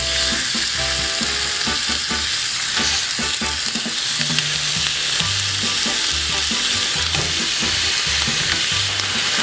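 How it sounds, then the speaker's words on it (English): Pork chops browning in a frying pan give a loud, steady sizzle and spatter that runs unbroken from start to finish, with scattered low thumps and clatter from the pan beneath it. "Now we have to brown our pork chops."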